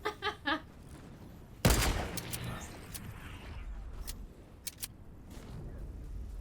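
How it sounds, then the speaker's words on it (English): AR rifle shots in a competitive video game match, a few quick bursts at the start, then a loud blast followed by scattered sharp single shots over background game noise. "He's shooting with that AR."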